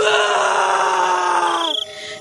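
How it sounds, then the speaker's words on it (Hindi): Sustained wailing scream of terror in a horror tale, a loud strained voice held for nearly two seconds before breaking off abruptly, with a faint tail afterward. "उसकी चीख निकल जाती है"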